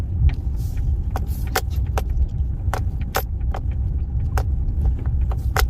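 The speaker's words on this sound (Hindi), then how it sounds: "तो यहाँ पर इस तरीके से आगे गाड़ी बढ़ जाएगी।" A car rolls slowly over rough, uneven ground, its low rumble carrying sharp rattles and jangling knocks from bumps and loose items inside, steady and close with no talking.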